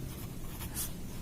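A pen scratches numbers onto a paper maths exam sheet, a soft, close, continuous scribbling with a few brief sharper strokes and no voices.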